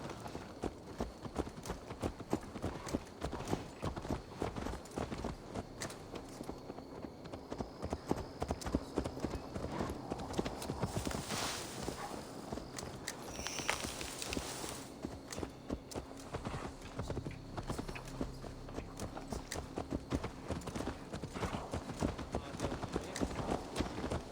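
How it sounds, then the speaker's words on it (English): Horse hooves clip-clop steadily in a Viking-era video game, a dense, continuous patter of hoofbeats at a walk or trot that runs throughout, close and moderately loud over a faint ambient background. "Let's return the horse."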